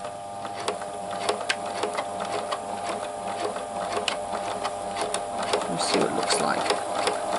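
Pfaff classic-style quilt sewing machine stitching a test seam on fabric with a lengthened stitch, giving a steady mechanical whir with rapid needle ticks throughout, while a person speaks briefly over it.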